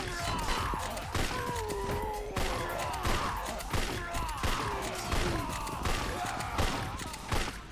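Gunfire in the video game Yakuza 4 comes as repeated bursts of shots and impacts in an uneven rhythm, loud and close, with a voice talking intermittently underneath.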